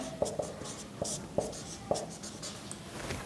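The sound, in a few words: writing on a board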